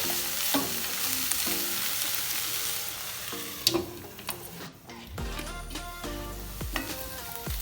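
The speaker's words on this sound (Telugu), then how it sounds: "అండ్ కొత్తిమీర అన్నీ బాగా మిక్స్ చేసుకుని మళ్ళీ ఒక 5 మినిట్స్ కుక్ చేసుకుంటాం." Paneer bhurji with coriander sizzles and fries in a pan, a continuous soft crackle broken by sharp scraping clicks of a spatula stirring and tapping the metal, close and fairly quiet, with no voices.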